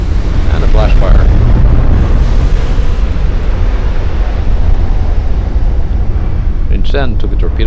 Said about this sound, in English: There we go, actually torpedo hits. And a flash fire.